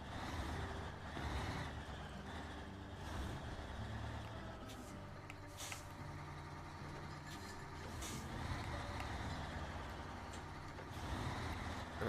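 A modded Daddy Longhorn truck in the video game SnowRunner rumbles with a steady, loud engine drone throughout, with a few brief higher hissing bursts along the way.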